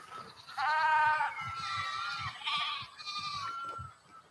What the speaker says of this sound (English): The Chantangi, or Chaugra, is a breed of Kashmir goat native to the high plateaus of Ladakh